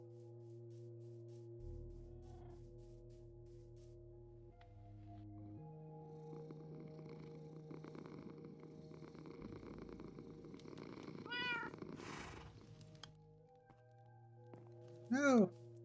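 Bella the cat purrs in a low, continuous rumble heard close up, then lets out short rising meows toward the end. A quiet voice speaks in the background.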